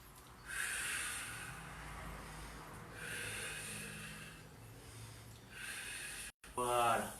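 Audible inhales and exhales during a stretching routine, with broad airy breath bursts repeating in a slow rhythm over a low hum, ending in a brief gasp-like sound.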